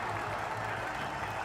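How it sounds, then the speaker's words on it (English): A cricket crowd at a Sri Lanka versus West Indies match clapping and cheering, a steady, fairly faint wash of applause from a distance. "And indeed, they got a lot to cheer."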